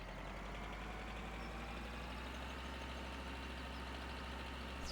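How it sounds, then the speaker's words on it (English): Tractor engine idling in Farming Simulator 2013, a small three-cylinder unit giving a steady, even low rumble throughout, faint and alone without talk. "it's probably only like a 3-cylinder engine"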